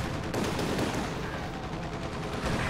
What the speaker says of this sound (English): We got an airstrike going again.